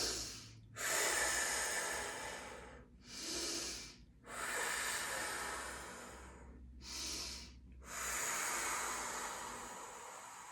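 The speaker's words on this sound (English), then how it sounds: "Breathe through the nose." Slow, deep breaths drawn and let out through the nose, close and loud, with five long airy whooshes separated by brief silent pauses.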